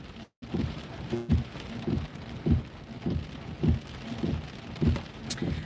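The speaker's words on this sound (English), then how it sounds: "now it's just a tiny little rain shower left" Steady rain falls on a surface during a storm chase, with low rumbles of thunder rolling in at regular intervals, close and fairly loud throughout.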